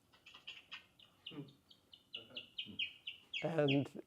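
Chickens cluck and call in short, repeated bursts, with a louder, harsher squawk near the end, as one bird challenges another over territory at a men's club gathering.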